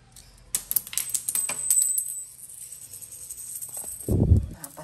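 Coins dropped and placed one after another by hand near a wall edge, a short run of small metallic clinks and taps at close range, followed by a duller thump of handling.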